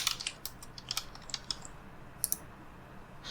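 Light, steady typing on a computer keyboard, quiet and close, with irregular soft key clicks and a few sharper taps, no talking.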